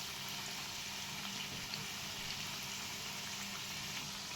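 Alu vadi, colocasia rolls, deep-frying in hot oil over a low flame, giving a steady, close bubbling sizzle that holds even throughout.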